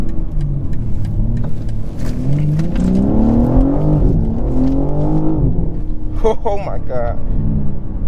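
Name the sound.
2023 BMW M3 Competition xDrive accelerating, dual-clutch gear shifts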